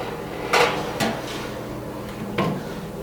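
An apple crisp dish placed into a kitchen oven, heard as a few hard knocks and clunks from the dish and oven hardware, spaced irregularly over a quiet room.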